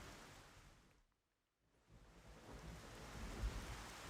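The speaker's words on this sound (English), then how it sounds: "So we're gonna keep having thunderstorm for a little bit." Thunderstorm with rain in Xenoblade Chronicles: a faint, steady hiss of rainfall with a soft low rumble, briefly dropping out to near silence before swelling back a little stronger.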